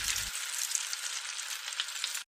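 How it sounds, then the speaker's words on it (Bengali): Loud, continuous sizzling of fish frying in hot oil, close up, with small crackles and pops throughout and no talking. "শুরু হয়ে গেল সেকেন্ড পার্ট, মাছ ভাজার পালা।"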